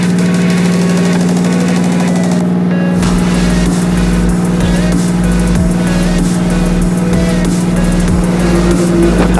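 Passenger launch boat engine on the Padma river, a loud, steady low drone with knocking vibration running throughout, close and continuous with no voices.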